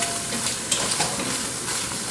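Shelled shrimp shells drop into a preheated pot and sizzle steadily, a dense, loud frying hiss with a few brief clinks and stirring noises, no talking.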